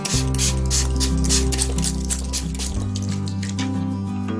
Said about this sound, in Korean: 비누액이 골고루 퍼질 수 있도록 소독용 에탄올을 뿌려주세요